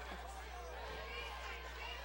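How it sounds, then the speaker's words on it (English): Football crowd at a Culver City versus Leuzinger high school game buzzing as spectators stand, a faint, distant murmur of chatter under a low steady hum, with no single voice standing out. "this crowd has been buzzing about something the past few minutes"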